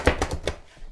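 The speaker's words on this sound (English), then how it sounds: "And we're mincing these onions." Knife chopping and mincing onions on a board for tamale pie: four or five quick, sharp chops close by, then a fading quieter scrape.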